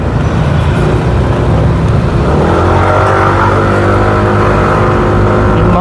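Steady stream of cars passing on a road, a loud continuous engine and tire roar with a shifting drone as vehicles go by close, no voices.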